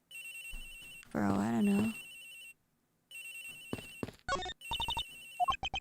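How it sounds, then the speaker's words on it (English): A phone ringing in the video game Ace Attorney Investigations, a bright repeating electronic ringtone in bursts with a pause, while a person talks over part of it. "Agent Hicks' phone, it's ringing from somewhere, sir."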